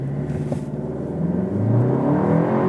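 Volkswagen Atlas Cross Sport with a 2.0-litre turbo engine and all-wheel drive, accelerating hard in sport mode with traction control off; a steady engine drone climbing in pitch, close and continuous, with no talking.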